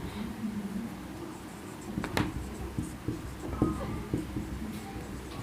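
Chalk or marker scratches on a classroom board during a percentage maths lesson, with short irregular strokes and taps close by over a faint room hum.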